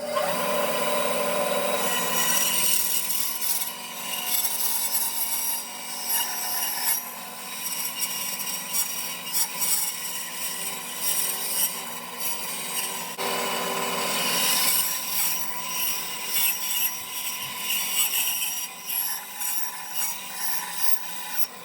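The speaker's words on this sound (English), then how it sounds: "So we'll just go ahead and cut this out now. I changed the blade on my bandsaw." A band saw fitted with a 1/8 inch wood-cutting blade rips steadily through walnut, giving a continuous loud rasping whine that swells and eases as the cut progresses, with no talking.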